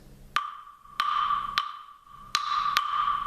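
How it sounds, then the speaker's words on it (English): Five sharp, ringing clave strikes, played with a cupped hand as a resonating chamber, crack out at uneven intervals. Each bright, woody click is close and loud and hangs briefly before the next. "that's how you want to play the clave"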